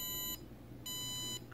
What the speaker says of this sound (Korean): 아까 알람 때랑 똑같죠?